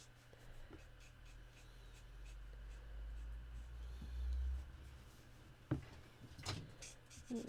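Alcohol marker colouring in skin tones on paper, a soft scratchy felt-tip scrubbing at close range, with a few louder taps and knocks near the end.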